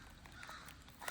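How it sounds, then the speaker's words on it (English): Crows cawing outdoors at a fairground, a flock calling in short, scattered, somewhat distant caws over low background noise. "Crows are chatting away"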